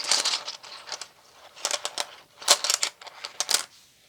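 Small rune stones clatter and click against one another as they are drawn for a reading, a series of short, close, irregular rattling bursts separated by brief pauses.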